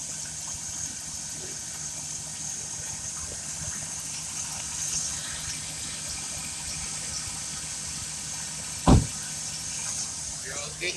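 A 2015 Chevrolet Express van with a 4.8L Vortec V8 idles steadily outdoors in snowy conditions, a low even engine rumble with a brief sharp knock near the end.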